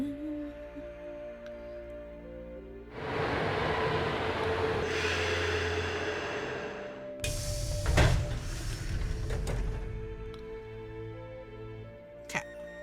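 A metro train ride in the Nancy Drew game Secret of the Scarlet Hand: a quiet hum swells into a steady rumble of rolling cars, with a burst of clattering and screech midway, then settles back to a low hum.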